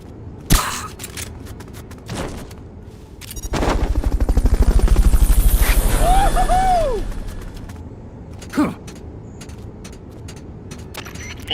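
Helicopter rotor thump swells and fades over several seconds in Metal Gear Solid Peace Walker, set among sharp gunshot-like bangs and clicks, loud and close.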